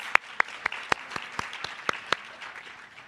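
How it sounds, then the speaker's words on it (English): An audience at a community plan launch event claps for a consultant team, with sharp, evenly spaced claps ringing out over about three seconds and fading toward the end. "give a thunderous round of applause to our consultant team"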